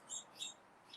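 Bird chirping inside a house: two or three brief, high chirps in quick succession, faint and distant-sounding over quiet room noise, with no voices.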